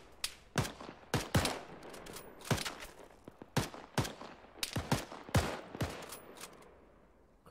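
Gunfire in the tactical shooter Arma 3 Antistasi: a dense volley of sharp, loud rifle shots, some in quick pairs and bursts, cracking irregularly throughout with echoing tails and no voices.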